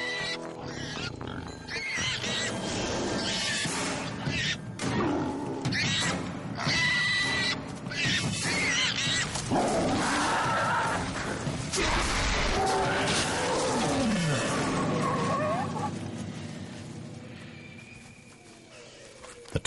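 A tiger roars and growls at length, with a dragon mimicking a distressed prey call. The sound is loud, rough and dense, with overlapping grunts and snarls nearly throughout before fading at the end.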